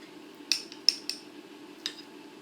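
A metal spoon fills small ramekins with fish mousseline, giving four light, sharp clinks against the dishes over a low, quiet kitchen background, with no talking.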